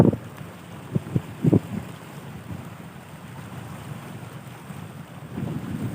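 Wind blowing steadily across a seashore on a rainy day, a continuous low rumble with a few brief thumps of wind gusts hitting the microphone early on and a swelling gust near the end; no talking.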